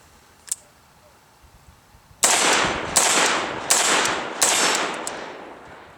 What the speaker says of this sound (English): we'll go ahead and take a few shots here, let you guys judge for yourself